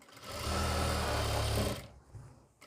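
A sewing machine stitching a salwar runs in one fast, steady burst for under two seconds, its whirring hum loud and close, then stops abruptly into quiet handling noise.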